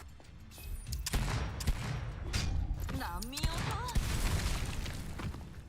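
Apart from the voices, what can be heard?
gunshots and exploding barrel in video game GFL2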